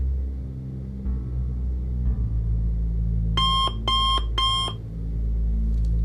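A clock beeps three times in quick succession, bright and evenly spaced, over a steady low rumble, as it counts down.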